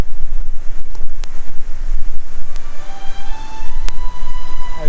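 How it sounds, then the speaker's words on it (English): Rushing river torrent in a Skye glen in Scotland in winter, a loud, steady roar of water mixed with gusting wind buffeting the microphone. "This beautiful, beautiful river running through the Glen."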